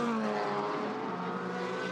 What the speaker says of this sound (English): the 82 car's just gone past